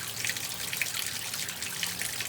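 Water runs from a freshly repaired Moen faucet into a sink, a steady bright splashing stream, close and fairly loud, with no voices.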